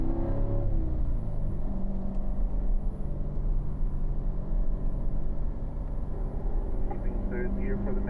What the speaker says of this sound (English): Slowly shifting our way up to third gear.